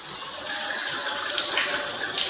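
Tap water runs steadily over arms washed up to the elbows, a close continuous hiss and splash with small splattering variations and no voices.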